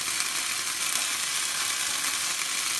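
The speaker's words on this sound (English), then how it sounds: "there's a bit of oil spitting around" Hot oil spitting and sizzling in a pan while kidney beans cook for a rajma curry, a steady dense hiss with crackling, loud and close, no voices.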